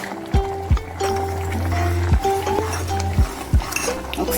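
A spoon stirs pappu charu lentil soup in a metal pot, sharp clinks against the rim recurring every second or so over a low steady hum.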